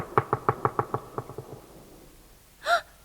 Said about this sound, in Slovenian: Nekdo trka.